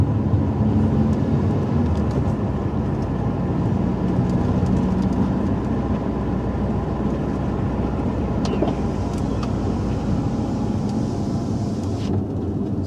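A car rolls along an airport runway with a loud, steady engine and road rumble, wind noise holding constant throughout and no pauses.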